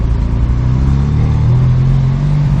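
A car in a La Placita street, a loud close engine rumble and low road roar that holds steady throughout.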